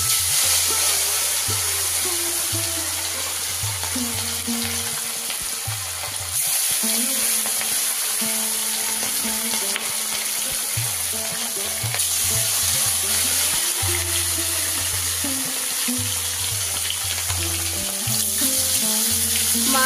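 Fish frying in hot oil makes a continuous, fairly loud sizzle with fine spattering crackles. It runs the whole time beneath a faint, low droning hum.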